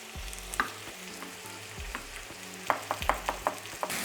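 Beef and onion browning in a pan for a beef and tomato stew: a steady close sizzle with repeated sharp clinks and scrapes of stirring, growing busier toward the end.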